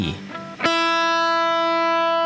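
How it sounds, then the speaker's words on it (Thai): A voice briefly trails off, then a single electric guitar note, the open high E string in standard tuning, is struck and rings out steadily, sustained and slightly distorted, with bright overtones. "สาย 1 เสียง E"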